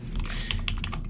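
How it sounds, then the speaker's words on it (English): Quick taps on a computer keyboard as Alt, Shift and the arrow keys are pressed, a close run of light, evenly paced clicks over a low background hum. "Alt, Shift, rotate, and I'm moving my arrow keys and lining it up"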